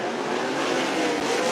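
Race cars lap Cottage Grove Speedway in a continuous loud roar of engines, a dense, harsh, sustained drone with no pauses and no voices.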